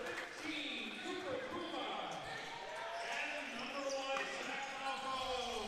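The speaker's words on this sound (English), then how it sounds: "As the ball bounces around, still bouncing" A lacrosse ball bounces around the floor during a junior A coed championship final between the Sackville Wolves and Saint John Rapids, its knocks blending into continuous arena crowd noise and chatter.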